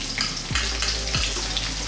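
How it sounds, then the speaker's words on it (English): Onions, fresh chili, chopped garlic and cinnamon frying in a pan, a loud continuous sizzle with two brief scraping stirs. "we're going to throw this around the pan for about just 2 minutes"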